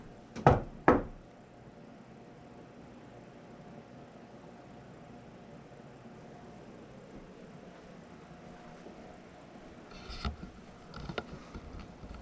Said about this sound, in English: I'm gonna knock again.